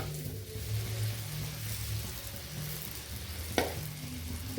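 Puris frying and puffing in hot oil, a steady, fairly soft sizzle with bubbling throughout and one brief sharper crackle partway through, heard alone without voices.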